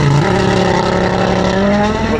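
Ott Tanak's Toyota rally car passes close by and loud, its engine roaring with a rough, uneven rising note, without speech.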